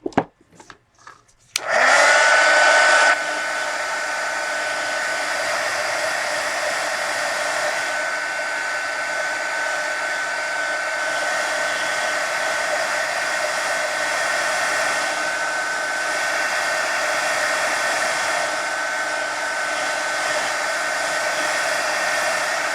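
A hair dryer switches on after a few clicks and blows drying a napkin journal page in a mixed media craft project, a loud steady whine and rush that holds for the rest of the stretch.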